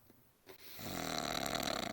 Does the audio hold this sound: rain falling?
no